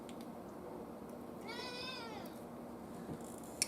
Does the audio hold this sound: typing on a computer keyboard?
no